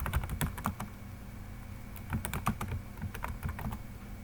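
Quick, irregular keystrokes clatter on a computer keyboard while text is entered into an Excel invoice. The tapping comes close up in bursts with short pauses, and no one speaks.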